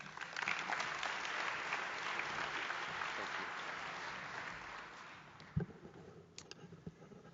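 A conference audience claps to welcome a guest lecturer to the annual Mason Lecture at ObesityWeek, steady moderate applause that gradually thins into a few scattered claps and thumps near the close.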